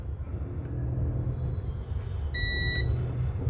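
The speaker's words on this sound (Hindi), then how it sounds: "एक साइड बीप आ रहा है" A multimeter on continuity emits a single clear beep of about half a second while testing a dead mobile phone's circuit line for a short. The beep sounds over a constant low background rumble.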